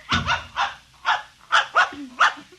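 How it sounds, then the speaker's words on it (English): A puppy dog barks in a 1950s radio drama, seven quick, close, loud yaps in an irregular run with a short whimpering whine near the end, heard alone. "I'm going to introduce you to my puppy dog, Mr. Blister, so be good."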